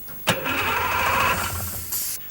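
An old combat harvester engine, aluminium-built, cranks and catches with a sharp burst, then runs in a loud steady rumble close by for about two seconds before cutting off.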